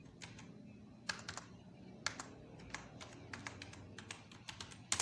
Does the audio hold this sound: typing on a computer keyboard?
yes